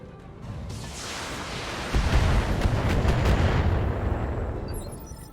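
Ammunition cooks off in a tabletop BattleTech game effect, a loud rumbling explosion that swells after a second into a sustained roaring blast and slowly fades, with no voices.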